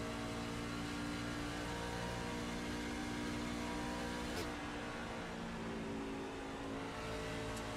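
Race car engine in a racing video game at Kansas Speedway, throttle blipped and revved in a steady, loud, droning whine that rises and falls slightly, with a brief sharp click midway and no talking.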